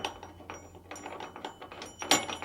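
A bolt is tightened through a tailgate assist bracket on a 2010-2014 Ford F-150 or Raptor. The ratcheting clicks come in short, close bursts with brief pauses between them and no talk over them.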